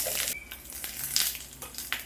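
Dried red chillies, curry leaves, cumin, chana dal and urad dal frying in a pan, a steady close hiss and crackle of hot oil with a few brief stirring scrapes, and no voices.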